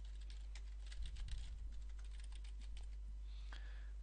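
Light typing on a computer keyboard while entering text into a Publisher text box, a quiet run of quick key clicks over a steady low hum, with no talk.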